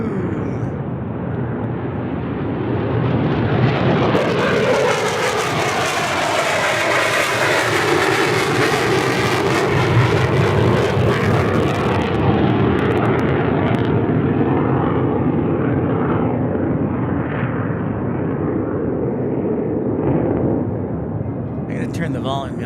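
A jet airliner at Tucson International Airport roars close and loud, its engine noise swelling to a sustained peak and slowly fading, with a person talking nearby.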